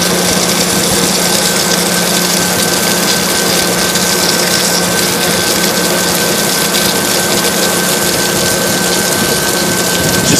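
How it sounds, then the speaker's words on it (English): A water pump running while being primed for a water tower. It gives a loud, close, continuous hum mixed with gushing water noise and a steady tone, unbroken throughout. "Just hearing the pump, you just hear the difference. When it actually starts to work, it hums like a beauty."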